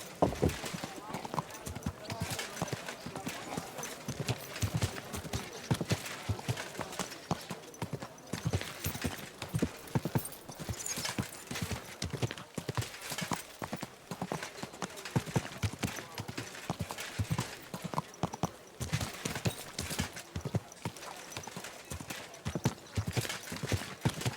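Horse hooves clip-clopping steadily in Kingdom Come: Deliverance II, a continuous brisk rhythm of close footfalls on ground, with a rider's voice talking over it.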